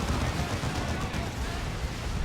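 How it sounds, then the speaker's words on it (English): A Psycannon salvo slams into a Chaos Dreadnought in a Warhammer 40,000 battle, a continuous dense roar of blasts and impacts, loud and unbroken throughout. "Strike Squad with a Psy Cannon as well brings down that Chaos Dreadnought to almost half health within a"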